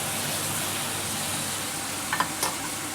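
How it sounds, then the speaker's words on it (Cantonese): Stir-frying in a wok after a splash of Shaoxing wine gives a steady close sizzle, with a couple of brief scraping clinks of the spatula near the end. "咁我哋會落啲紹酒落去啦，大概1個茶匙左右嘅紹酒啦，我哋炒一炒佢先"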